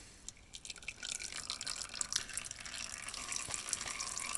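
Motor oil draining from a Toyota Camry during an oil change, a steady trickling pour that thickens after the first second and runs on with small dripping splashes, fairly close and alone.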